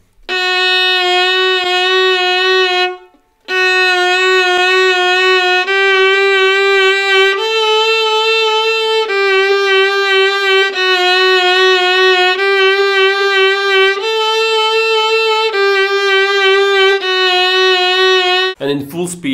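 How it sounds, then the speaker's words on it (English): Slow violin vibrato practice on F sharp, a sustained bowed tone rendered as a series of long wavering notes with brief breaks between strokes, close and clear with no talk. "So let's say I'm vibrating an F sharp."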